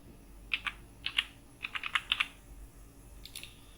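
Typing a sheet name into an Excel workbook produces short bursts of crisp computer keyboard clicks in irregular clusters, close and clear, with no talking.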